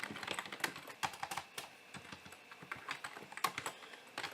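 Rapid, uneven keystrokes on a computer keyboard while someone types code, close and clear with irregular bursts of clicks and no talking.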